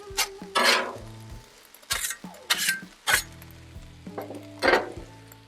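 Food sizzles and is stirred on a Blackstone griddle for lettuce wraps, with short bursts of sizzle and clinking utensil scrapes recurring every second or so, close by with no talking.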